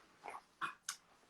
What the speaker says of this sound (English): I got my dog.